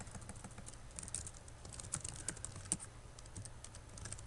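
Rapid keystrokes on a computer keyboard while entering a name and keywords into a web form, a steady irregular patter of clicks, close and fairly quiet, with no voices.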